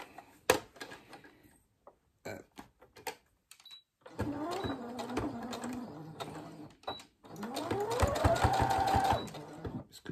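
A sewing machine stitches fabric for a children's cloth drawing book, running in short bursts and then longer steady runs at close range, with quiet gaps and small clicks between them.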